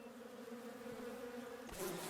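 A swarm of bees hums at a bee tree in the survival game Above Snakes, a steady faint droning buzz that holds without pause before a brief rustle near the end.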